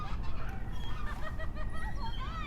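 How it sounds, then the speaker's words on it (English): Ducks calling and honking as they approach, a busy overlapping chorus of quacks over steady low outdoor rumble, fairly close and continuous. "Here comes some ducks too."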